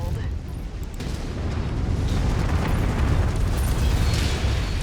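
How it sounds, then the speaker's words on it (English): Artillery shells burst around a battlefield in MechWarrior 5, giving a continuous loud rumbling roar of explosions with mechanical clatter and steady booms throughout. "What's with all these artillery?"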